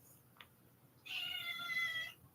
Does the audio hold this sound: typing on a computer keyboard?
no